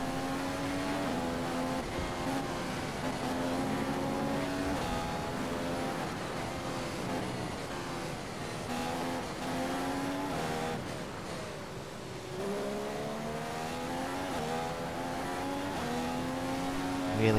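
An F1 car in the F1 2015 racing game at the Chinese Grand Prix, engine screaming at high revs, loud and close, pitch sweeping up and down through corners and gear shifts with no pause.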